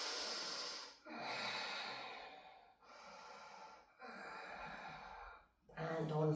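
Long, breathy exhalations during a yoga forward fold over the right leg in a vinyasa class, four slow airy breaths in a row with short pauses between, close and fairly quiet, with no one talking.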